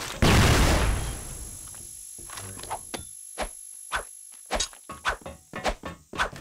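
Grenade and flash bomb blasts in a zombie shooter game, a loud opening burst followed by a rapid series of sharp, close thuds and bangs in irregular succession.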